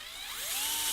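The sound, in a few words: electric drill running during PC build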